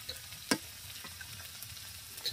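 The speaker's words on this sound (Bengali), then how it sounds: "হ্যাঁ নাড়া দাও, হালকা হালকা নাড়া দাও।" Curry with turmeric, coriander and chili powder being stirred in a hot pan, a soft steady sizzle with scraping strokes and one sharp clack of a spoon against the pan.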